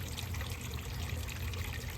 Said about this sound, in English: I will just fill this up for a second whenever these plants need watering